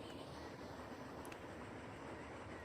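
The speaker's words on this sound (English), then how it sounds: "Let's hop on our passenger train and we'll ride it out of the show." Steady low rumble of a passenger train riding along the rails in Transport Fever 2, a faint continuous rolling drone with no talk.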